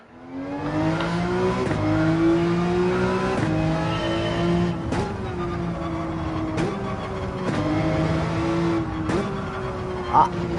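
Porsche 911 engine in Gran Turismo 7 revving hard through repeated upshifts and dips as it rides curbs, with steady droning engine tone and brief thumps, someone talking over it.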